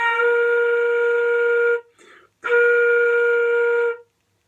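Flute sounding a steady B flat, held twice with a brief breath gap between the two sustained, clear tones, played solo without accompaniment.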